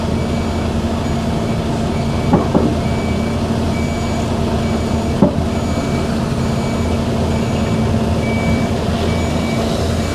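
Reversing beeps sound steadily over a loud, continuous truck-yard engine rumble as a forklift drives down the side of a truck, with a couple of faint knocks along the way.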